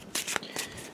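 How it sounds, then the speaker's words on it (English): Cards from the Raxxon board game are shuffled into a draw deck, a few quick riffling bursts up close over faint room tone. "We're going to shuffle that into our draw deck."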